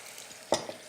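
Cèpe mushrooms sautéing in a little butter in a pan, a steady soft sizzle with a brief louder stir or toss in the middle, no voices.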